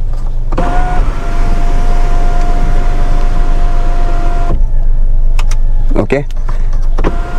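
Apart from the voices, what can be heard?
Kia Syros electric sunroof opening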